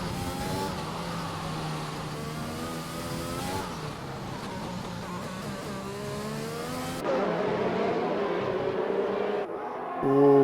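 Race car engines in a racing video game at the France round, loud sustained revving that climbs and drops through gear shifts, with a sharp change in engine note partway through and a final surge.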